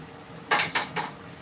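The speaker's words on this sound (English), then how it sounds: "Let me just do the dishes on the side" Dishes, pots and pans clatter in three quick bright bursts while someone does the washing-up beside the stove during fish and chips cooking, close and fairly loud against a quiet kitchen background.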